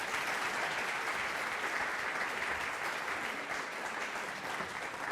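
An audience at a nursing school white coat ceremony claps steadily to welcome a speaker to the stage, a dense, even wash of applause sustained throughout without voices.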